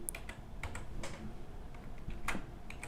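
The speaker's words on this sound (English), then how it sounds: "that means I'll have to type my password" A password being typed on a computer keyboard, a run of quick, uneven key clicks with a few sharper taps standing out, heard alone with no talking.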